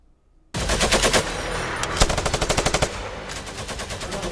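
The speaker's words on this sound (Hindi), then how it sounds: "तालिबान और आईएसकेपी लड़ाकों के बीच गोलीबारी और फायरिंग" Taliban fighters and ISKP militants trading gunfire near Kabul airport: sudden loud bursts of rapid automatic rifle fire, close and sharp, with rhythmic rattling volleys and a single heavier shot, no speech.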